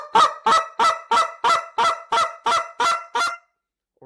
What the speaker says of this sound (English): a single rhythmic cluck. That's a one-part sequence.